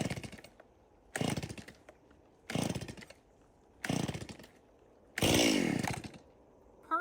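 A 22-year-old Stihl MS170 chainsaw revs in four loud, separate bursts, each dropping back to a rough idle before the next, with the last burst held longer and steadier.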